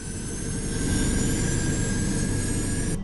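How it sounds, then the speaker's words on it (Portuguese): A jet airliner takes off at full power, its engines producing a loud, continuous roar with a high whine that holds steady throughout before cutting off abruptly at the end. "Decolagem a toda potência."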